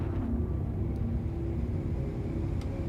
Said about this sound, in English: I am spinning 180 around so my main engine can slow me down faster